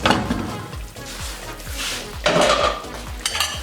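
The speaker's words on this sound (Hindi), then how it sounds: "अब ढक्कन खोल लेंगे।" A metal lid comes off a pot of cooked mutton on a stove with a couple of clanking metallic knocks, close and clear, amid quiet kitchen clatter and a faint background hiss.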